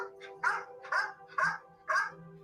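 A dog barks four times at an even pace from a played recording, each bark mid-pitched and moderately loud over a steady background hum.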